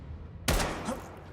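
A single loud gunshot in a Squid Game scene, one sharp close crack cutting through a quiet background, with a short echoing tail fading behind it.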